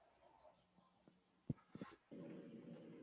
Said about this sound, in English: there might be a lot of background noise here because the dogs are getting fed.